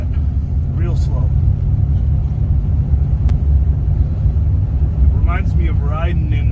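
The engine of a car with a 2-barrel carburetor runs slowly at light throttle, giving a steady, close, low rumble from inside the vehicle. A voice briefly talks over it.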